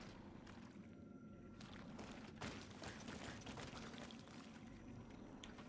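Water pouring in the video game GreedFall, a soft continuous splashing rush with faint gurgling and scattered drips, low in level, with no voices.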